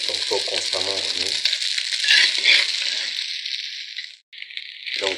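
Rice crackles and hisses as it toasts in a hot pan for shrimp fried rice, with constant stirring scrapes. A voice talks over the first seconds, and the sizzle breaks off briefly before resuming.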